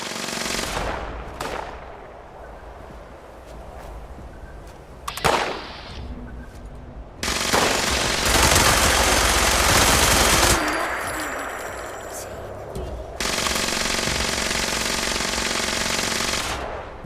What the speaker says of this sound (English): Guy has a fucking Gatling gun, laser Gatling gun